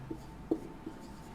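Pen scratches on paper in a few short strokes, with three soft taps spaced through a quiet room. No one speaks.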